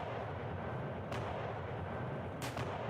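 Napoleonic-era artillery firing in the video game Combat Directive: Napoleonic Wars, two distant booming shots rising over a steady roar of battlefield noise.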